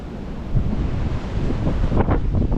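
Strong wind buffets the microphone on a Snowdon mountainside, a steady loud roar and rumble with gusts surging through the whole stretch.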